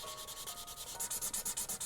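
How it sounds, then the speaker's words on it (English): A marker's chisel nib rubbing across paper while filling in colour, a soft dry scratchy stroke repeated in quick even rhythm, close and quiet. "And then I'm gonna color these insides with the chisel nib."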